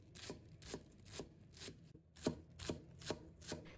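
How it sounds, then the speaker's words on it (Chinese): A kitchen knife chops green onions into small pieces on a board, leaving a quiet, steady series of crisp taps at about two per second with a faint background hum. "再准备几根小葱，把它切成葱花。"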